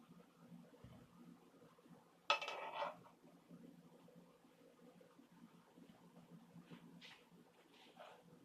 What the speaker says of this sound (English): we're just going to plate it